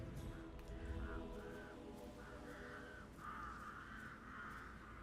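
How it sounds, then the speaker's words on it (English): Crows caw repeatedly in a video game, a series of harsh calls that grow more frequent toward the end, moderately distant and faint over a steady low game background. "I'll never get rid of those stupid birds."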